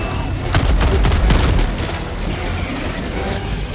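A 500 kilo bomb goes off in the Helldivers 2 video game, a heavy booming blast with clattering bursts around a second in, then a loud sustained rumble that slowly settles.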